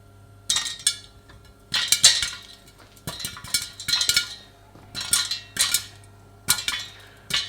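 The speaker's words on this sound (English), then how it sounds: "So they're really popping now." Popcorn kernels pop inside a lidded pan in quick, irregular bursts. The pops sound sharp and clattery, with many close together and each burst ringing briefly against the pan and lid, over a steady low hum.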